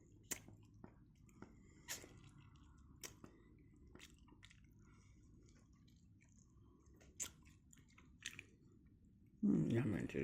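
Someone eats and chews food at close range, with soft wet squishy bites and brief crunchy clicks scattered across a quiet room, and a louder burst of rustling near the end.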